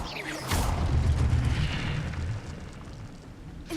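An Incendio fire spell is cast in Hogwarts Legacy: a sudden loud, roaring whoosh of flame with a deep rumbling body that swells, holds for about two seconds, then fades away, with no talking over it.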